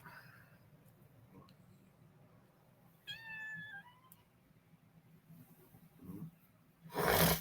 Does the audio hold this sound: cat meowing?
yes